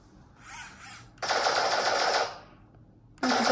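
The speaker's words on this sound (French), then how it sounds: "Donc il peut faire une rafale." A PANXER Eilik toy robot's cannon plays an electronic burst-fire effect: short rattling volleys, one long sustained stretch of rapid gunfire, then a fresh burst cutting in at the end, loud and close.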